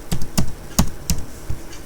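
Keys on a computer keyboard are struck in a short, irregular run of about six crisp, close taps.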